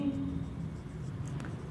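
Chalk or marker scratching across a classroom board in steady short strokes, quiet and close, with faint room hum and a brief voice near the end.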